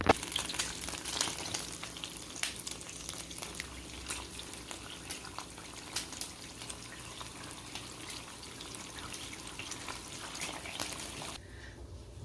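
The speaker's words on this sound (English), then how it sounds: "I'm just going to grab my eggs so that we can fry some eggs up to go on the side" Eggs fry in a hot pan, a steady sizzle and crackle throughout, with light clinks and bursts of spatter over the hiss, no voices.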